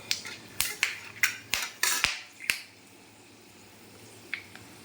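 Whole garam masala spices sizzle in hot cooking oil, giving about eight sharp, close pops and crackles in quick succession before the pan settles into near quiet, with one last faint pop.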